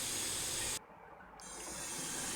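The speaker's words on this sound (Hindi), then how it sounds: "जब ऑयल अच्छे से गर्म हो जाए तो उसमें फ़्रेंच फ्राइज़ डाल दें।" French fries fry in hot oil under a lid, producing a loud, steady hiss and crackle that briefly dips as if the lid shifts, then swells back.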